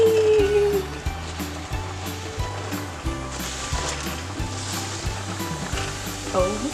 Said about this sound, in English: We got butter in here, lots of it, and it's melting.